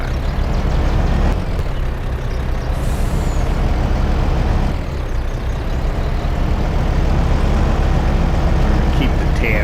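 Heavy trucks rumble along a narrow farm drive in Farming Simulator 22, a loud, steady low engine drone with an air-brake hiss, continuous under faint background talk.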